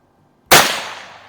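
A single sharp gunshot from a 1959 Mossberg 640K .22 magnum rifle fired at an outdoor range, a sudden loud crack with a short ringing decay in otherwise quiet surroundings.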